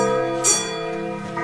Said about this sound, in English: Imagine 100 clocks in one room, all ticking over at the same time.